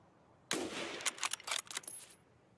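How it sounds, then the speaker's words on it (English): Gunfire in Escape from Tarkov, a sustained burst of rapid shots followed by several irregular clusters of cracks, moderately loud with a slightly distant, echoing character. "There's definitely shots in here too."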